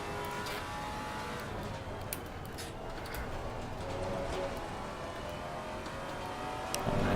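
Maserati GT3 race car engine in Assetto Corsa Competizione, a steady, fairly quiet engine drone with faint clicks and small rises in revs, heard on its own.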